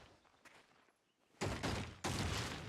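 Cannon shield firing in the video game Atelier Yumia, two loud, broad blasts in quick succession after a quieter stretch, each sustained and roaring, close and forceful.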